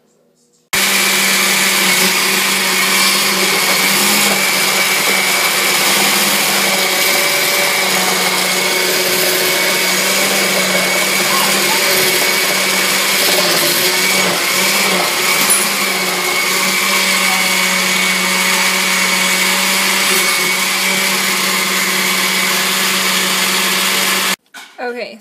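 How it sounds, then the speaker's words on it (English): A blender whirring loudly and steadily as it blends kale with coconut oil, a sustained close motor drone that holds for the whole run before switching off at the end. "So I'm just going to blend this up, and then we'll put it in cubes"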